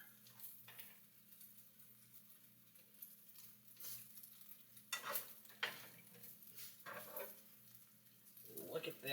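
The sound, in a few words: cheese omelette frying in a pan after flipping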